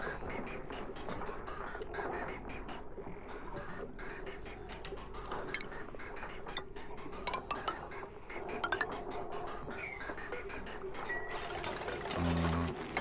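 Busy stream of small mechanical clinks, ratcheting ticks and glassy taps as buildings are deconstructed in the video game Oxygen Not Included, steady and dense throughout with a brief brighter chime near the end, no voices.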